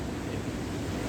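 Rough sea surf pounding a rocky North Wales coastline during Storm Eunice, a steady, dense roar of breaking waves with wind buffeting the microphone, continuous and close with no distinct breaks.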